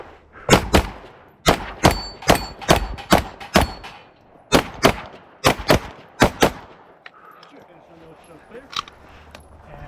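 Rapid strings of close, loud pistol shots from a Daniel Defense H9 during a shooting competition match, about a dozen sharp cracks in quick bursts with brief pauses, thinning to a few scattered shots at the end.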